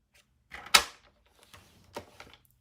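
Paper being scored with a tool for a fold-flat treat box: a sharp close click followed by a few softer scraping and tapping strokes, with no talking.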